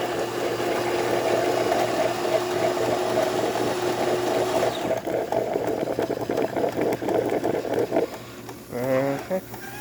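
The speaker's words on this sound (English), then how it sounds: "Nice steady stream coming out of the machine." A DeLonghi espresso machine with a new generator and water brews cappuccino, its steady pump hum and rattle loud and continuous for about half the clip before easing into a quieter gurgle, with a voice briefly speaking near the end.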